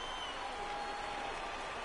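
A simulated baseball crowd at a spring training game in MLB The Show 19 cheers and applauds in a dense, steady wash, with faint commentary beneath.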